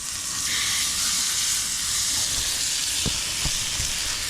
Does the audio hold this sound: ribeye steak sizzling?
yes